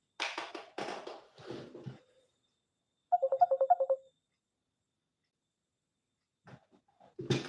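A phone ringtone plays as one short burst of rapid electronic tones, preceded by brief talk and followed by quiet, with another voice starting at the end.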